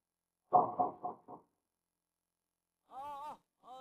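A door being knocked on, a brief cluster of four or five close raps, followed after a pause by a short voice.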